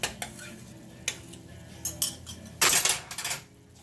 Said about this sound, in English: I dropped my fork